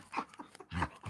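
A pet dog pants and whimpers softly in short, uneven bursts at close range while licking its owner after a yoga practice session.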